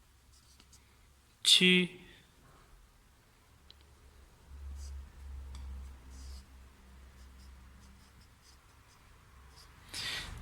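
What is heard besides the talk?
writing Chinese characters and pinyin by hand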